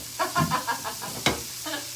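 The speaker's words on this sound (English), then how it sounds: "we pan fried the cod on both sides, and then we just got a little bit of white wine to keep it from burning" Wild cod pan-frying with a splash of white wine, a steady close sizzle broken by several soft stirring scrapes and one sharper clack of a utensil against the pan.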